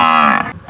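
A buffalo calf gives a single short, close, loud moo that fades after about half a second, followed by a brief breathy tail.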